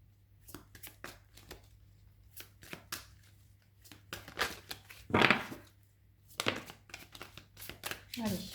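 Tarot cards being shuffled by hand, a run of crisp riffling and flicking bursts with short pauses between, close and fairly quiet, with someone speaking intermittently between the shuffles.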